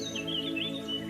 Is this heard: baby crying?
no